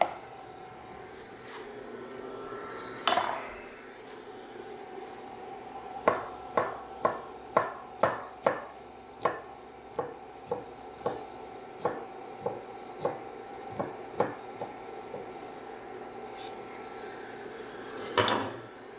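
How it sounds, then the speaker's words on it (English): Knife chopping asparagus on a cutting board for a ham and asparagus omelette: a steady run of about fifteen sharp, close taps in even rhythm, with a couple of louder knocks before and after. "While that's warming up, I'll chop some of the asparagus"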